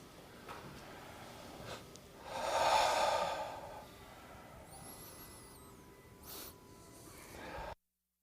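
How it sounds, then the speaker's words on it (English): A group takes deep breaths together in a synagogue setting: one long, full inhale-exhale swell in the middle, then a fainter breath near the end, in a quiet room with no talking. "let's all take 3 deep breaths together"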